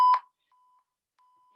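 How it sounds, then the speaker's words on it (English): An electronic workout interval timer gives one loud sharp beep, followed by two fainter, longer steady tones after short gaps, with silence around them. "So you'll hear a beep"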